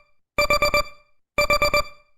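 A timer alarm rings in two loud bursts, each a rapid run of four electronic beeps, separated by about a second of silence.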